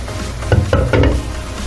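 Ground pork cooking in a covered pan gives off a steady low sizzle, with a few louder bursts of stirring or scraping partway through; no voices.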